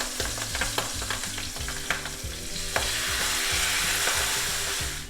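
Tomato stewing in a pan for cod Livornese with chili and whole parsley leaves, a steady close sizzle mixed with regular scraping stirs of a utensil against the pan, no voices.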